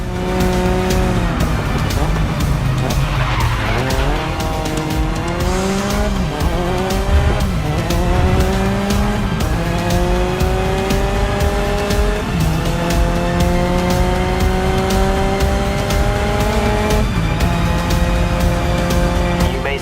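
Race car engine in Grid Legends revving loudly and continuously, its pitch climbing and dropping through gear shifts, with tire squeal and skidding mixed in, close and dense throughout with no voices.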